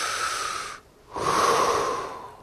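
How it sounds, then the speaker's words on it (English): One long, audible breath out, a short pause, then a breath in, close and airy with a slight wheeze, no talking. "if you breathe in and out, you're using your lungs"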